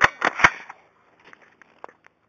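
Toy gun firing indoors, three quick sharp snapping pops in succession followed by faint clicks and small rattling handling noises.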